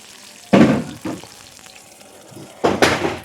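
Chepa dried-fish fritters wrapped in bottle gourd leaves are lowered into hot oil, giving two loud bursts of sizzling spatter with a softer crackle between them.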